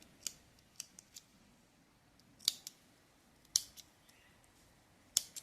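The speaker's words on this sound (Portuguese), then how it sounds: "Aqui a gente pode cortar esses excessos de fio." Scissors snip off excess thread while a beginner's cotton holder for a Mother's Day makeup kit is being made, several sharp, quiet close-up clicks spread across a near-silent background, some in quick pairs.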